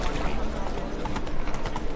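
Horse hooves clip-clop steadily while riding at speed in The Witcher 3: Wild Hunt, a continuous rhythmic pounding of footfalls heard close and loud without pause.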